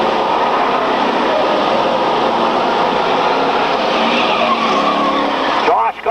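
Stock cars roar around an oval track in 1995, a dense, continuous engine drone from several cars with tires scrubbing, heard at a distance beneath a race commentator talking over it.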